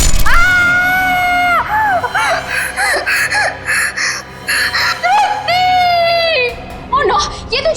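A woman screams in terror in a CID crime drama scene, loud, high and close, in repeated drawn-out cries broken by short sobbing gasps.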